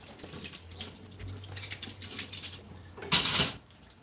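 Cold water running from a kitchen tap into a sink while dishes, a cup and utensils are rinsed, a close, steady splashing hiss that shifts with the dishes and surges loudly near the end.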